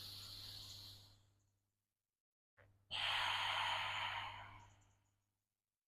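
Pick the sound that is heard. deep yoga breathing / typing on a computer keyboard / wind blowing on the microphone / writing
deep yoga breathing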